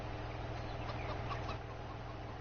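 Chickens clucking in the farming video game Farming Simulator 19, a small flock of six birds in their coop area, with soft, steady overlapping clucks over a continuous low game hum and no talking.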